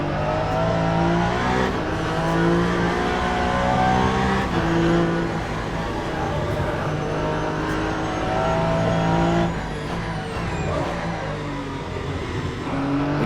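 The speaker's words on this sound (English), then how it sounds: "you can hear the tires squealing, just hanging on, and losing just enough traction" Race cars in Le Mans Ultimate at Bahrain, engines revving and shifting loudly through a corner sequence while tires squeal faintly as they hang on at the edge of traction, another car passing near the end.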